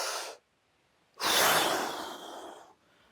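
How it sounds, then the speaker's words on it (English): A big, forceful exhale during a hatha yoga breathing exercise, with a short breath at the start, then a long airy rush of air lasting over a second that fades slowly. Close and clear, with no talking. "Our last one, make your exhale really big."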